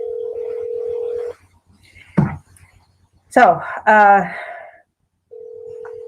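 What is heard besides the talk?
cell phone dialing tones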